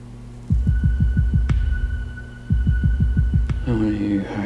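A heavy heartbeat pounds in steady double thuds over a low hum, pausing once before resuming, with a sharp click at each break and a low swelling tone at the end.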